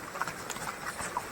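Horse hooves clip-clop in a quick, uneven rhythm during a fast ride through Baisaran valley near Pahalgam, Kashmir, fairly close but soft, under a steady outdoor hiss.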